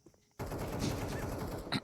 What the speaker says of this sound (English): MP7 great at this range.